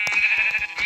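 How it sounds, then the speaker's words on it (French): A sheep bleats in Minecraft, two short nasal bleats close by within under a second, the first near the start and the second near the end, with no talking. "il y a un mouton là-bas"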